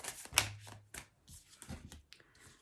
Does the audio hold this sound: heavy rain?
no